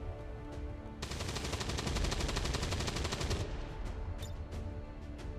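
Sustained automatic gunfire in XCOM 2: War of the Chosen rattles off in a rapid, dense burst that lasts about two and a half seconds, then stops. A few scattered sharp clicks and impacts follow against a low background.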